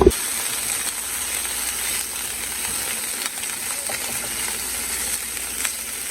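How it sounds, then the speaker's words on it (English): Ham sizzles steadily in a hot frying pan, a continuous close, bright hiss with a few faint ticks and crackles, no voices over it. "You want to get that ham cooked for real."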